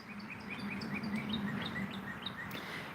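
Small birds chirp and tweet repeatedly outdoors around a rented place, a quick scattering of high calls over a soft, steady background hum.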